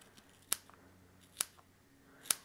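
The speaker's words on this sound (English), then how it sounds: "I'm going to cut off just a bunch of little squares." Scissors snipping watercolor paper into small squares, three crisp separate cuts spaced about a second apart, close and clear against a quiet room.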